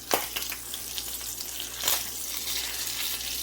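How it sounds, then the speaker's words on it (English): Brisket fat pops and sizzles in an Instant Pot, a close, steady frying hiss broken by a few sharp pops and spatters, no talking. "It's the fat on it popping,"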